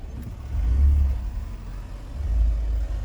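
A car creeps along a narrow lane behind a van, its low engine rumble swelling twice as it pulls forward, fairly close and with no talk over it.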